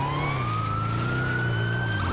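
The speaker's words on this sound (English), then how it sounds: "this does have the siren unique from the other emergency vehicles that we can buy" A police siren wails on an emergency vehicle, the Vapid Caracara pursuit truck in GTA Online, rising in a slow continuous sweep over a low engine rumble, loud and close with no talk.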